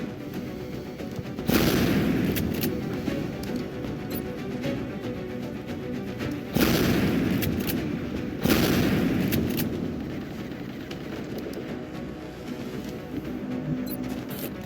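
Heavy gunfire in a base-defence video game, opening in three loud, sustained bursts that each start abruptly and roll on as a dense, rumbling barrage before tapering off.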